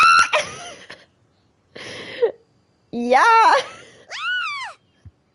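Paimon from Genshin Impact screams in terror in a few sharp, high vocal bursts separated by short silences, with a voice shouting in excitement among them.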